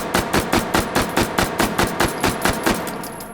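An MP5 submachine gun fired in the VR shooting game H3VR: about fourteen loud, punchy single shots in a quick, even rhythm, close by and alone, with no talking.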